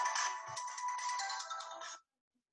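A mobile phone ringtone sounds in a lecture hall during an oral and maxillofacial surgery class, a bright electronic melody playing for about two seconds and then cutting off into silence.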